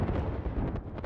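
Airstrike missiles from Bangalore's ultimate in the Apex Legends video game explode in a dense, continuous rumbling barrage that roars steadily for about a second before cutting off abruptly.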